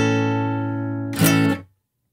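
A guitar chord played higher up the neck, first finger on the fifth fret, rings out alone and sustains steadily, then a brief strum or scrape near the end before it is cut off abruptly.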